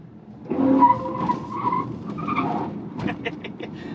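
A GWM Ora 03 electric car skids through a roundabout, its tires squealing in a sustained howl that rises and wavers for several seconds, with faint road noise beneath.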